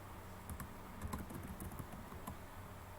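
Rapid keystrokes on a computer keyboard while someone fills in an online enrollment form, a steady run of close, light clicks and taps over quiet background hum.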